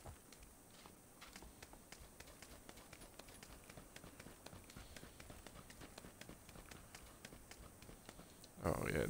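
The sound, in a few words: footsteps running in the video game PUBG on Xbox One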